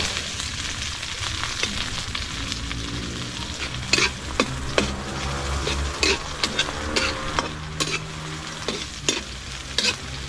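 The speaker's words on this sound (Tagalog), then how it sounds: "basta ginisa lang sa sibuyas bawang" Eggplant with onion and garlic sizzles steadily in a hot pan, close up, with a spatula scraping and clacking against the pan in irregular stirring strokes.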